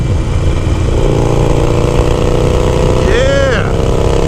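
Harley-Davidson Sportster Iron 883 with a stage 1 upgrade accelerating in third gear, its exhaust giving a loud, continuous low rumble with a short rising-and-falling whine toward the end.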